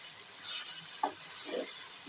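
Beef biryani with dried plums cooking on high heat in a pot gives off a steady soft sizzle and hiss, with a few faint stirring or shifting sounds breaking through.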